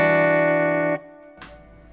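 An electric guitar chord fretted on the D and A strings rings out with effects, sustaining evenly for about a second before being cut short, followed by a brief pick scrape.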